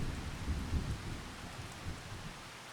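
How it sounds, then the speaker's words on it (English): Heavy rain pours down during a thunderstorm on a stormy night as a dense, continuous hiss, with low thunder rumbling in the background. "We had thunder, we had some rumble going on. A truly stormy night."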